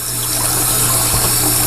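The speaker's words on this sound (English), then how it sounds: "So I've got water flowing through it." Water rushes steadily and loudly through rectal ozone therapy equipment as it is flushed clean, a continuous dense gushing with no pauses.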